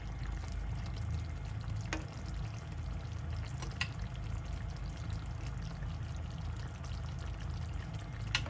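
Canned coconut milk pours into a cooking pot of ginataang gulay with salmon, a steady close liquid rush and faint sizzle that lasts the whole stretch, with no voices.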